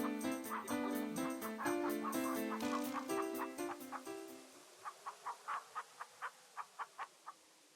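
Hens in the King's Quest III computer game, with game music first, then about eight short synthesized clucks, evenly spaced, alone and fairly clear.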